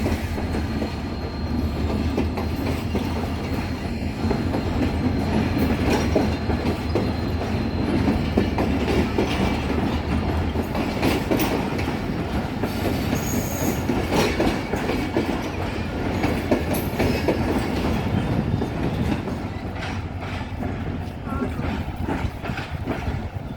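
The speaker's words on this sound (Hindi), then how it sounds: "थोड़ी देर इसने यहाँ पर स्टॉप लिया है हैदराबाद स्टेशन पे और अब ये अपने मंजिल मकसूद यानी मीरपुर ख़ास के लिए रवाना हो चुकी है।" Shah Latif Express train pulling out of Hyderabad station, bound for Mirpur Khas: a steady, loud rumble of rolling railcars with rhythmic wheel clatter throughout, and faint voices in the background.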